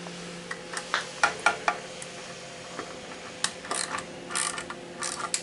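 Ratchet wrench loosening exhaust bolts while changing a wheel: irregular bursts of sharp clicking pawl ticks, close and moderately loud, with short pauses between strokes.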